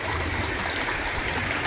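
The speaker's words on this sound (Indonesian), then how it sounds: "ternyata aliran air begini aja sih ya, bukan sungai besar ya, tapi lumayan dengar suara air" A small stream of water flows steadily near a glamping spot by Situ Rawa Gede, with a continuous broadband rush and trickle that holds an even level throughout and has no voices over it.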